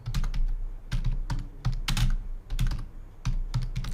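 Rapid keystrokes on a computer keyboard while a Zoom meeting name is entered, a steady run of close, crisp clicks in short bursts with brief pauses and no voices.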